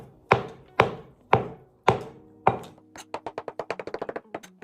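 A knife chops soft cooked cauliflower on a board: five slow, heavy chops, then a quick run of lighter, faster taps, close by with no voice.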